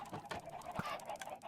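Minecraft chickens packed into an automatic breeding farm give faint, choppy clucks in irregular bursts, with one brief sharper knock partway through and no talk.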